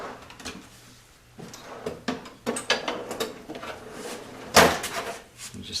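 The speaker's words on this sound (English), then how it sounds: "I've got a little center punch here that might work." A small center punch tapping back a bent lock tab on the clutch of a 1973 Honda CB750 custom build, a string of sharp metallic knocks at uneven intervals, close by, with one louder strike near the end.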